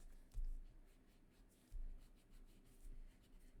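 A pencil draws light sketch lines on paper, making faint, soft scratchy strokes in a few brief bursts with quiet pauses between, close and alone.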